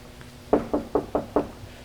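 Five quick, evenly spaced knocks on a door, close and loud, with a steady low hum underneath and no voices.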